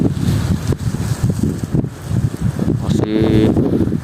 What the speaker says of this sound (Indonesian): angin